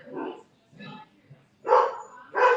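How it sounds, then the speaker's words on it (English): A dog barks and yips from another room, several muffled barks in short bursts with whimpering sounds mixed in, moderately loud and heard alone. "the moment I go live is when my dog starts barking in the other room"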